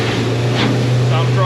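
A motorboat fitted with a new Solas 4-blade propeller runs at a steady cruising drone, a constant low engine hum with wind and water noise, with a voice briefly over it.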